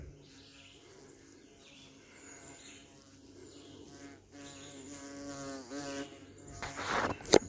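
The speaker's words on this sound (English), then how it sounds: "Bee won't leave me alone." Outdoors, a bee buzzes around close by, its drone wavering in pitch as it circles and growing louder toward the end.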